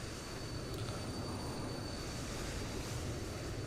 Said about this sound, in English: That plane you can hear is actually one that's way over there somewhere.